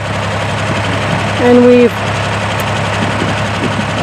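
A tractor engine runs at a steady, close, low rumble on a sheep farm while rolls of fencing wire are being moved, and someone speaks briefly over it.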